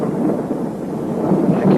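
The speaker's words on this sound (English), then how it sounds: "Did you hear it? Thunder?" Thunder rolls in a low, continuous rumble of a storm drawing nearer, with a steady wash of rain-like noise and no voices over it.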